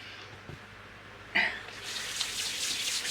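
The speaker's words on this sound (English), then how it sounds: "So we're just going to wash our hands" Running tap water splashes over hands being washed at a sink, starting with a sudden burst and continuing as a steady, close hiss with small spatters.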